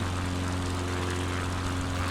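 A propeller plane's engine drones steadily in Microsoft Flight Simulator 2020, a loud, continuous hum with a low buzzing tone and no break throughout.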